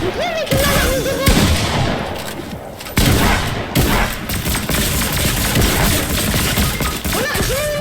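Gunfire from shooting an enemy in a video game, a dense, continuous clatter of shots with crashes and thumps, loud and close, running almost unbroken across the whole stretch.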